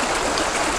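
Justus Creek flows steadily along the Appalachian Trail in Georgia, a close, even rush of running water with no voices.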